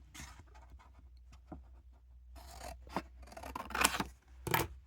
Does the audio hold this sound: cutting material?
yes